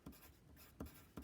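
A pen scratches across paper in a few short, close strokes, each a quick soft scrape with brief pauses between them and no talking.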